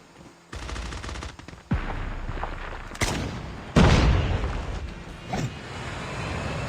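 Gunfire in Call of Duty: Mobile as players shoot through smoke, with several sharp shots and bursts at uneven intervals, some close and loud, others softer, over steady game ambience.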